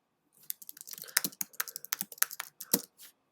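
Quick bursts of typing on a computer keyboard, crisp close key clicks in uneven runs with short pauses, heard alone in a quiet room.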